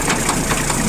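Engine of a Japanese PROGRESS-AVTO 4WD tractor with loader idling steadily, a continuous broadband rumble with faint knocking pulses, close and even throughout.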